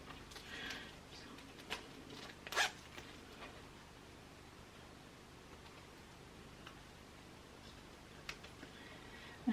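A zipper on a clutch wallet is handled during sewing, with a few quiet zip rasps and one sharper pull in a hushed room.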